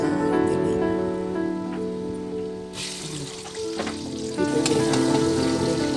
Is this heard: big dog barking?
no